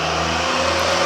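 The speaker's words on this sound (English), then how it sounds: "We forgot to close the window, so you're hearing It's a big truck." A big truck passing outside an open window, a loud steady engine drone with strong low hum filling the whole short stretch, close and continuous with no talking.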